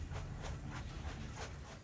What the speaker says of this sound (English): Countless Russian trains are rattling towards the German border